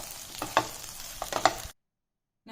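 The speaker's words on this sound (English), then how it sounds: "Now mix the chutney and the oil thoroughly" Mint chutney is stirred with oil in a pan, giving a soft sizzle with scraping spoon strokes against the metal. It stops abruptly into silence, then a brief new sound begins.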